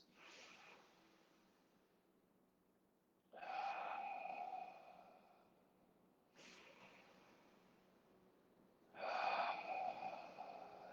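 Slow, audible breathing during a seated yoga twist in a vinyasa class, with long inhales and exhales alternating in a steady rhythm, close and fairly quiet.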